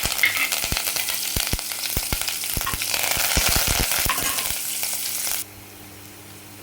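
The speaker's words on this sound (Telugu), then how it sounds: "ఇప్పుడు కరివేపాకు వేస్తున్నామండి." Curry leaves hit hot oil in a pan with mustard seeds and asafoetida, giving a loud, steady sizzle with rapid sharp crackles and pops that fade into a quieter hiss at the end, with no one talking.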